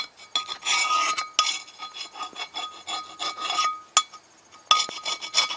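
Scrubbing the bottom of a rusty cast iron pan, rough rasping strokes in uneven bursts with short pauses and occasional sharp scrapes, close and fairly quiet, no voices.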